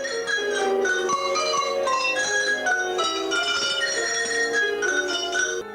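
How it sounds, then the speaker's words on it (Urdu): Tuned cowbells rung by hand to play music in the Austrian and Swiss tradition, a continuous melodic stream of overlapping clear metallic tones with quick repeated strikes, close and fairly loud. "گائے کے گلے کی گھنٹیوں سے موسیقی پیدا کرنا آسٹریا اور سوئٹزرلینڈ کا خاصہ ہے"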